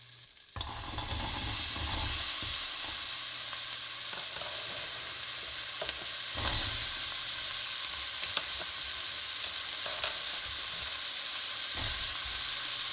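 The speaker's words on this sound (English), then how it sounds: "Once the butter is melted, we're going to add our chopped vegetables." Chopped vegetables sauté in a tablespoon of melted butter in a pan, a steady bright sizzle that holds evenly throughout, with a few faint clicks from stirring under it.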